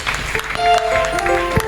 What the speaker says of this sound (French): Est-ce qu'on peut acclamer pour le roi des rois?